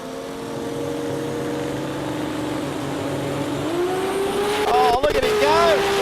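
A six-cylinder sports compact drag car at an Australian drag racing event roars loudly down the strip, its engine pitch climbing through gear changes near the end, with a crowd and voices talking over it.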